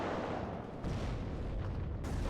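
An ATGM strike on a tank in the WARNO wargame, a loud blast of rumbling explosion with crackling debris that swells and persists, layered over continuous battlefield din.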